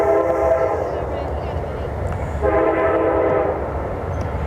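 A train horn blares repeatedly while a train passes through a city, heard steadily over a rumbling background at a youth baseball tournament final game.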